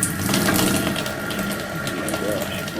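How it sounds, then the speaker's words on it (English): A toilet flushes and overflows in a continuous rush of water, steady and fairly loud for the whole stretch, with faint voices mixed underneath. "Can you stop flushing the toilet maybe so it doesn't overflow?"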